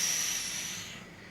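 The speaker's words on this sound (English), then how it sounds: "Big inhale. Forceful exhale." A single forceful breathing exhale during a breath and core strengthening exercise, a loud airy hiss close to the mic that fades steadily.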